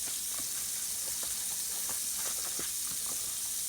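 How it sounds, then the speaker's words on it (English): Rice-a-Roni Spanish rice with vermicelli browning in melted margarine, a steady close sizzle and hiss with small crackles throughout, no talk. "just throw the rice in on top of your melted margarine, because you want to brown the little vermicelli in here"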